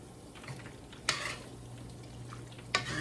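Jambalaya with shrimp and pasta shells being stirred in a pot, with soft scraping and two sharp clinks of a utensil against the pan over a low background hum.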